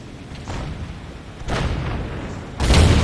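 Three heavy booming impacts from tank cannon fire in World of Tanks, about a second apart, with the last the loudest and nearest, each followed by a rumbling tail.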